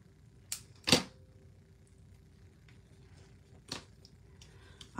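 Scissors or a trimmer cutting cardstock for a Christmas card: a couple of sharp snips close by, then a quiet pause and another crisp cut, with faint handling noise between.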